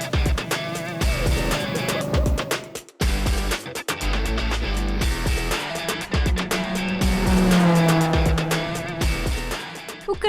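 Go-karts racing around a karting track in Mirandela, Portugal, engines buzzing loudly as they pass close by, with revs rising and falling and brief tire squeals through the corners.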